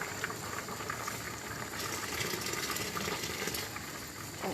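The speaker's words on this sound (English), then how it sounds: "Red beans are cooking away." Red kidney beans boil in a pot of water, a steady, even bubbling and hiss that runs throughout without a break.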